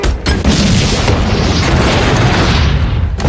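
A loud, sustained bomb blast from an action scene in the film Mission Impossible, a dense roaring explosion filling the whole stretch with rumbling debris, close and overwhelming, no voices.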